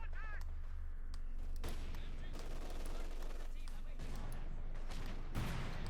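MG42 machine gun in Company of Heroes 2, bursts of rapid gunfire and scattered shots amid battle noise, moderately loud with a low rumbling bed underneath.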